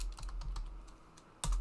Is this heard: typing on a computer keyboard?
yes